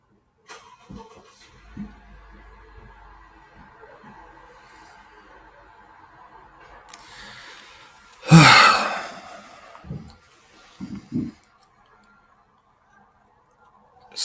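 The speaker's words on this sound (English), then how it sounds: "I'm gonna do a little bit of belly breathing" Slow belly breathing with soft, faint exhales in the quiet. It is followed by one long, loud, deep breath out that rises and fades away, then a few short, quieter breaths.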